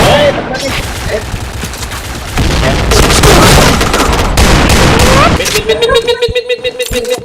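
Dense, loud bursts of automatic gunfire and explosions in a tactical shooting video game, sustained and overlapping, with a brief dropout before a heavier barrage and rapid individual shots near the end.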